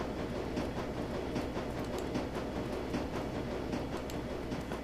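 Ambience of a train maintenance area in the video game Shadowrun: Dragonfall: a steady, fairly quiet rail-yard rumble with faint rhythmic clatter and no voices.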